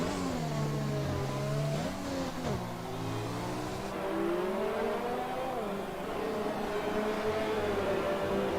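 Formula One cars in the F1 2020 video game race wheel to wheel, their high engines revving and shifting pitch as they rise and fall. The roar stays loud and continuous, with faint commentary underneath.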